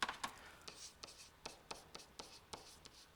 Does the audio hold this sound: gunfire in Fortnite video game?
no